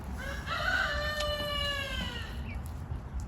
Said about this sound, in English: So French Fry may end up being half bantam